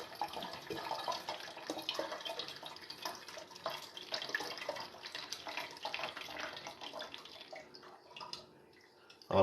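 Dark water trickles and splashes steadily as it drains out of a worm farm bin, close up and fairly faint, continuing without a break.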